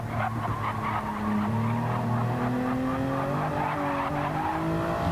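A race car in a racing video game squeals its tires and wiggles under throttle, the steady engine tone shifting and revving over several seconds while skidding tire noise runs loud and continuous.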